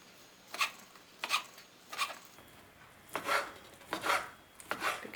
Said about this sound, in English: you want to slice the bacon into bite-sized pieces